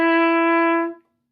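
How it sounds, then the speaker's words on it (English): A trumpet sounds a single sustained F sharp fingered with the second valve, a clear, steady tone held for almost a second before it quickly fades to silence. "F sharp, which you can hopefully see there is going to be second valve,"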